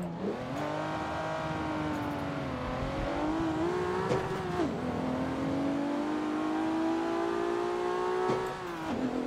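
A race car engine in Forza Motorsport 7 revs hard in first gear, its pitch climbing and dropping through quick shifts across a loud, continuous drone, with a brief tire squeal and no talking.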